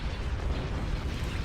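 Weapons fire in a Star Wars space strategy video game, a dense, low rumbling barrage of blasts and bursts running continuously under the battle noise.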